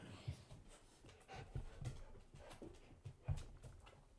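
Two dogs scuffle at close range, one licking the other while it growls, giving low rumbling growls, snuffles and panting breaths in uneven bursts, fairly quiet.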